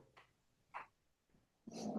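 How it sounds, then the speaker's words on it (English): A dog gives short, breathy growling grunts, three brief ones and then a longer rougher growl, close by in a quiet room. "Your dog is furious."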